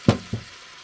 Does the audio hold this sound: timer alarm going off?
no